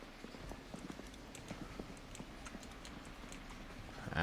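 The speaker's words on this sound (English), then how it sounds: "I heard footsteps." Footsteps in a zombie survival video game, a soft rapid patter of steps at a moderate distance, steady and light over several seconds, ending in a louder rising noise.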